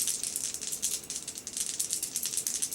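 Three dice rattling and clattering during a tabletop game of Marvel United Multiverse, Avengers vs X-Men, a dense, continuous close rattle lasting a few seconds with no talk.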